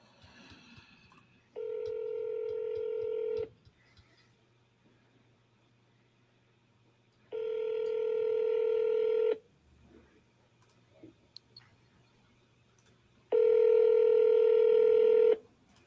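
A phone number is keyed in three separate bursts of rapid DTMF tones on a telephone sales call, each lasting about two seconds and separated by quiet gaps with faint background hum.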